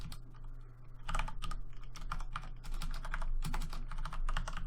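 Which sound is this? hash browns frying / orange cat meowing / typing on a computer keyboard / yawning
typing on a computer keyboard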